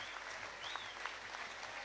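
A football crowd of several thousand gives a standing ovation after a 4-4 draw against Southampton, with steady, dense applause filling the whole stretch and no let-up.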